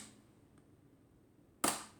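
A Kodak No. 2 Beau Brownie box camera fires its shutter once near the end, a sharp close click standing out against a quiet room with a faint tick just before.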